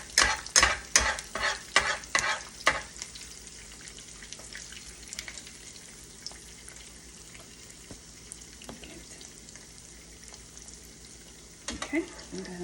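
An egg fries for breakfast in a pan, browning to a crispy edge, with loud scraping and stirring clatter over the first few seconds, then a steady low sizzle that continues alone, with a brief clatter near the end.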